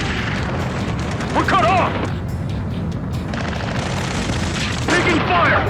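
Booming gunfire and explosions rumble continuously in an Ace Combat 7 rescue mission battle, played in VR, while urgent radio voices talk over the combat noise.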